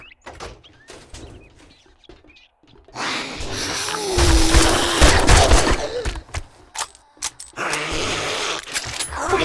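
Gunfire in the video game 7 Days to Die: after a quiet stretch with faint clicks, loud bursts of rapid shots and impacts erupt and keep up in heavy clusters to the end.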